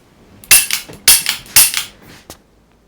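A toy cap gun fires three sharp, loud cracks at roughly half-second intervals, each one trailed by a short rattle, followed by a fainter fourth snap. No one speaks.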